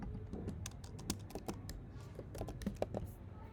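Rapid, uneven clicks of typing on a computer keyboard while writing CSS code, quiet and continuous over a low room hum with no voice.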